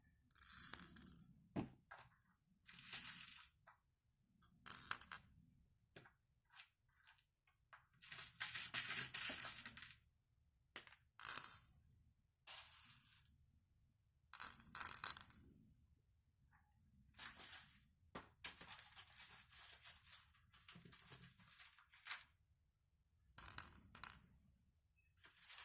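Small beads trickle and rattle into a Christmas ball ornament in quiet, scattered bursts, with crisp clicking pours separated by silent gaps.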